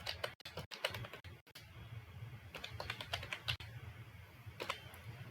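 An introduction being typed on a computer keyboard, with irregular close key clicks and occasional louder taps, a few short pauses between bursts, over a faint steady background hum.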